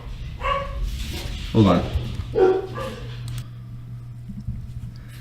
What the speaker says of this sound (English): Sorry, my dogs were barking.